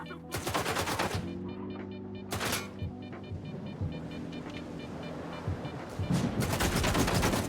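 Gunfire in a video game bursts in rapid, loud volleys, dense automatic fire mixing with sharp single shots under a steady rumbling backdrop.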